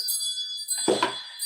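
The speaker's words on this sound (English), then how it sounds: "let's call in spirit with a little bit of wind chime time" A brief, high, ringing metallic shimmer of wind chimes sustains over a quiet background, with a soft low knock near the middle and no talking.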